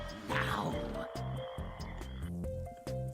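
Frogs croaking in the video game American McGee's Grimm, a series of short, low, throaty croaks repeating steadily over an eerie backdrop with sustained tones.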